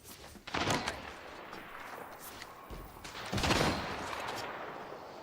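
Gunfire in the shooter game Apex Legends: two loud bursts of rapid shots, the first near the start and a longer one later, with a quieter rumble of game noise between them.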